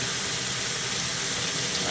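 Running tap water pours steadily into a sink while a potato is scrubbed under it, a continuous close hiss with no breaks.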